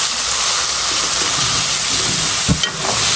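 Shrimp cooking in a pot over a fire for a Cameroonian dish with bitter melon, giving a loud, steady sizzling hiss throughout with a brief clatter near the end.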